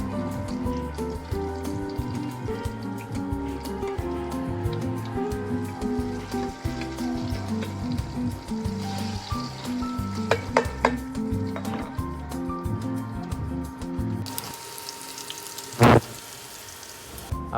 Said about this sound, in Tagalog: Tapos ipiprito ko na. Ayan. Nilalagay ko na siya sa pan.